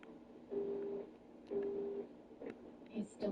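An unanswered phone rings in a video game, giving short repeated electronic tones in evenly spaced bursts, fairly quiet, with faint game sounds around them.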